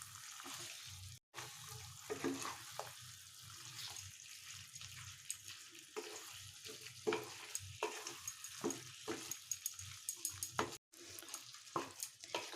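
Coriander powder being stirred into chicken korma frying in a pan, with a steady sizzle and repeated scraping stir strokes throughout, close and moderately loud, with no talking.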